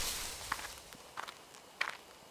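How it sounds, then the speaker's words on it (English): Three or four soft, crunchy footsteps, close by, in the video game Spirit Hunter: Death Mark, spaced unevenly over a hushed background as if someone moves through bushes along a gloomy forest trail. "there are footsteps close by"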